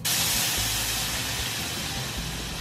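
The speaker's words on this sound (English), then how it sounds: "So we got the salsa over here that we need to simmer." Salsa simmers in a pan on the stove, giving a loud, steady sizzling hiss with a faint low rumble beneath, constant throughout and without talk.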